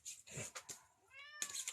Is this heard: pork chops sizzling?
no